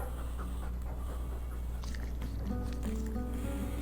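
A Mabari war dog from Dragon Age 2 pants steadily up close, soft rhythmic breaths over a constant low background hum, with a brief musical tone entering near the end.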